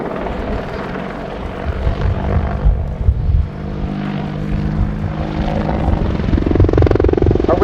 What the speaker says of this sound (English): Establishing in the high hover now at 800 feet above the ground, you can see the Apache's powerful hover performance